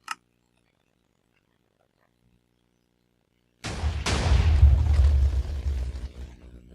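A Minecraft dispenser cannon fires: after a long silence, one sudden loud explosive boom erupts and rolls on as a dense, rumbling blast that slowly fades.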